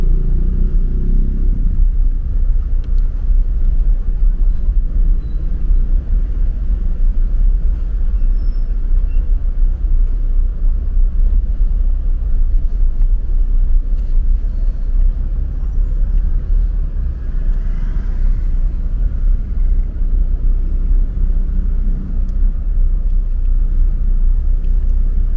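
Street traffic rumbles continuously through Angeles City after a typhoon, with loud, steady engine drone and low road noise from passing cars and buses, no voices over it.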